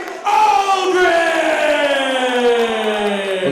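A crowd at a KINGDOM MMA cage fight roars and cheers for a fighter's entrance, a loud sustained chorus of yells and whoops that swells and holds without pause.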